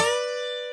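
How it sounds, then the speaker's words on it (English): A single electric guitar note bent on the B string Nashville-style while the E string is held, from a guitar solo lesson; one clear sustained tone ringing steadily and slowly fading over under a second. "this is a little Nashville kind of bend where we hold the E string firm, we don't bend the E string, but we do bend the B string"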